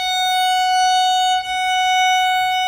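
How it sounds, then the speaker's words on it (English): A violin sounds a single sustained F sharp on the E string, a bright steady bowed tone held for about three seconds with a brief dip midway, close and alone. "There's our F sharp on our E string."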